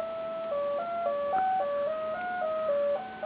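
A Serge modular synthesizer oscillator playing a simple stepped melody of pure tones, each note sliding briefly into the next with portamento glide, clean and steady with no voices.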